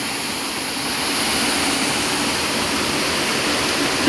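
Waterfall at Lubuk Sampi, a steady, loud, close roar of rushing water that stays constant throughout with no voices.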